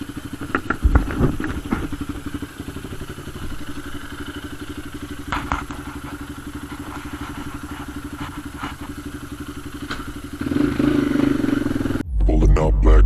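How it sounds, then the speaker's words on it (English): A motorcycle engine starts and idles as it warms up, a steady low rumble with a few clattering thumps early on, growing louder near the end. "Завожу мотоцикл, прогреваю."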